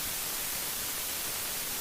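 Steady white noise played through the Carve Rack Extension, a constant, even hiss filling the whole range at moderate level, with no pauses and no other sounds.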